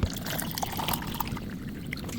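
Clean water pours into a glass in a steady close trickle and splash for a couple of seconds, with no one talking over it.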